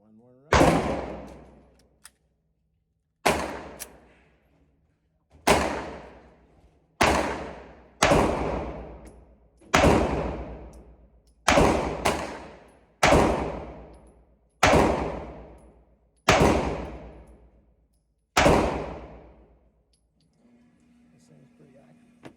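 Sig P938 9mm pistol shots ring out one at a time at a steady, unhurried pace on an outdoor range at 25 yards, about ten loud sharp cracks, each followed by a long decaying echo, with no talking between them.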